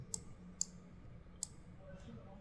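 Three crisp computer mouse clicks, close and distinct, spaced unevenly over a quiet room hum during a Blender texturing session, with no one talking.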